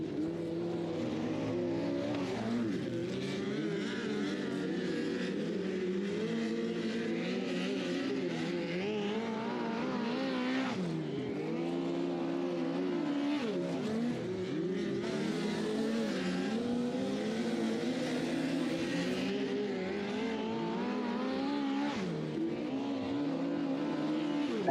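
Midget race cars of the Gopher Midget Racing Series battle three-wide at Thunder Hill Speedway, a continuous engine roar that rises and dips as cars rev and pass, with no voices.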